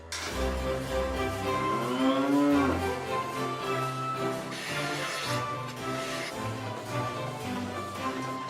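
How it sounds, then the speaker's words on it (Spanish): Dairy cows fed on natural pasture and alfalfa low and moo on a farm, several drawn-out calls close by, one rising and wavering, with a continuous background hum. "Las vacas lecheras alimentadas a pasto natural y alfalfa son cuidadas hasta el extremo de ordeñarlas con un fondo de música clásica"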